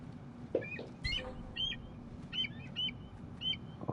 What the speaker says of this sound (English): Damn bird.